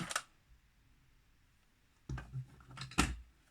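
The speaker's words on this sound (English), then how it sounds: "digging in my glitter drawer." Someone digs through a drawer of glitter makeup, with a brief rattle of small containers at the start, then a quiet pause, then clustered clicks and clacks of items being shuffled close by.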